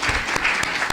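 An audience at an economic development luncheon claps steadily in a dense, continuous burst of applause filling the room, with a few sharper individual claps standing out.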